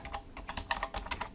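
Steady, quick typing on a computer keyboard, with clustered keystrokes clicking evenly and close by throughout.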